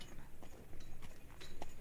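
Horse hooves clip-clop in a loose walking rhythm under a soft, steady background, with a few sharper hoof strikes standing out near the end.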